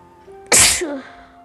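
One sudden, loud, close sneeze bursts out over a faint steady background hum and fades quickly, with nothing else around it.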